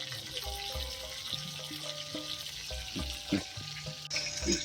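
Food fries in a pan while nasi liwet is cooked with salted peda fish and jengkol: a continuous crackling sizzle, with light clinks and scrapes of stirring and utensils throughout.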